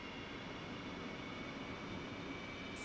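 Aircraft engines spooling up in the DCS flight simulator, a dense steady roar and whine filling the whole stretch at even loudness, with no voices.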